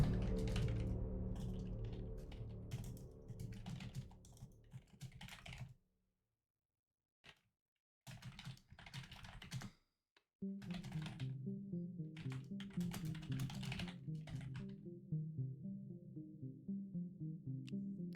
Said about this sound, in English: I'll type it in too.